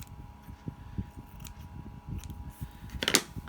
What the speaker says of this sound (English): I'm just going to cut one piece in half lengthways